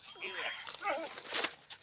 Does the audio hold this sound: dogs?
yes